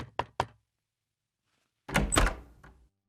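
Knuckles rap on a door with two quick, sharp knocks. After a pause comes a heavier, louder cluster of thumping knocks close by, with no voices.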